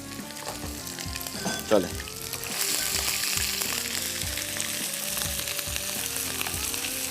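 Garlic and ginger fry in a pan with a continuous close sizzle, briefly broken by a sharp clatter; a voice speaks a word over the frying near the start.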